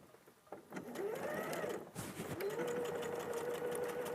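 A sewing machine stitches elastic onto a pocket, running in two steady bursts of rapid mechanical whirring with a brief pause between, close and fairly loud with no voices.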